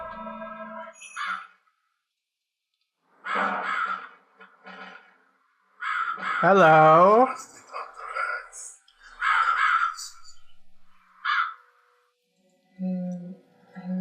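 In The Cat Lady, a crow gives several harsh caws spread out between stretches of silence, and a voice speaks briefly among them.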